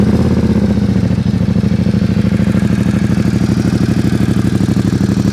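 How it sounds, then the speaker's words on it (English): A 2020 Ducati Diavel 1260 motorcycle idling close by, a deep, steady, loud rumble with an even pulsing beat that holds unchanged throughout. "It's just a truly magnificent, typical Ducati sound that you're going to be looking at."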